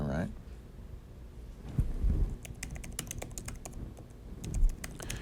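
Fingers type on a Surface Studio keyboard, a run of quick, light key clicks in irregular bursts, fairly close but quiet, with a voice and low room sounds underneath.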